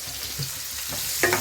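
Onion for a chicken biryani fries in a pan with a close, steady sizzle, interrupted by a few soft stirring scrapes and a brief clink toward the end.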